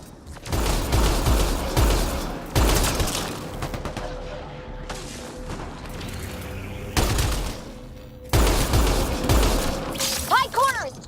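Battle gunfire in Mass Effect: Andromeda, with loud bursts of automatic fire and sharp shots coming in several clusters, mixed with booms and game effects while voices shout over the combat.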